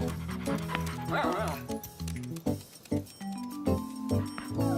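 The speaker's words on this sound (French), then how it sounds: "ce jour-là, grand-mère gardait Bobichon, le chien préféré de Caillou" A cartoon dog yips, barks and whimpers in short bursts over background music, with other sounds mixed in.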